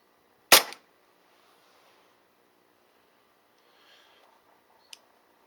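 A single sharp, loud shot from a Cybergun/KWC Taurus PT92 2016 CO2 gas blowback airsoft pistol on a fresh sparklet, ringing briefly, followed much later by a faint click.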